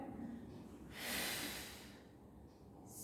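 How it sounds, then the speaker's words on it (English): During a core and arms workout, a single soft inhale swells up for about a second through the nose, then fades into a quiet, airy background. "inhale"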